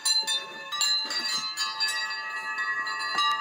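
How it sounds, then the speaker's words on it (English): A small metal wind chime in a workshop rings out as it is bumped, with a cluster of bright, overlapping metallic tones that strike repeatedly and sustain close by, with no talking. "I've got my little wind charm, which is going to make noise when I bump into it"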